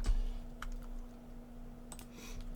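Quick clicks of a computer keyboard being typed on, a few separate keystrokes scattered over a quiet hum at close range.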